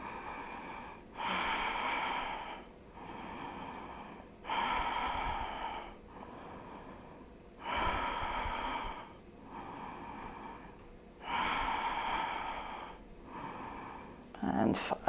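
Slow, deep breathing during a front and middle splits stretching routine: four long, regular inhale-exhale cycles, each a breathy rush of air separated by quieter pauses, close and fairly soft, with no talking.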